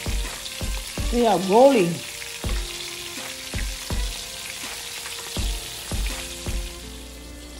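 Fish frying in oil in a pan gives a steady sizzle, broken by a rhythmic series of clacks and knocks from turning the pieces, with a short spoken remark near the start.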